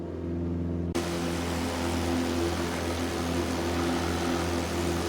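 A propeller airplane engine in a flight game drones steadily and loudly, its sound thickening into a broad roar after the first second and holding without pause.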